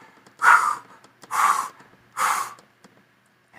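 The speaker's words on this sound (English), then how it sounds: "You feed the Kundalini with your breath, with breathing." Three deep, forceful breaths taken in a slow, even rhythm during a Kundalini breathing exercise, each a loud rushing exhale close to the microphone, separated by short quiet pauses.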